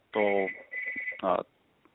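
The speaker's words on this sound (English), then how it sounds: "I got a phone going off in the background" Phone going off in the background with an electronic ring: a sustained tone, a brief pause, then a second buzzy burst, mixed with a voice talking.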